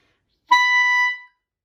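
A single high C sharp clarinet note sounds clearly for under a second, starting with a soft breathy attack and ending cleanly in silence.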